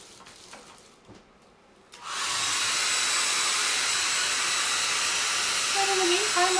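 A dryer blowing on wet paint on an octopus artwork switches on after a quiet moment, then runs as a loud, steady, close rushing hiss that holds to the end.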